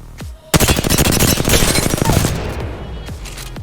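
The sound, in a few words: R-301 rifle gunfire in the Apex Legends video game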